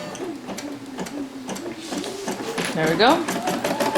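A Poolin embroidery machine stitches a built-in design with a rapid, even mechanical ticking and whir, a rising whine near the end, while a person speaks briefly over it.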